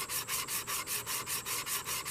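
Wood is sanded by hand with 120 grit sandpaper in steady back-and-forth strokes, about four per second, a close, even rasping hiss with no talking.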